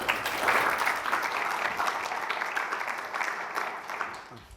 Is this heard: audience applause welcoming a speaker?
yes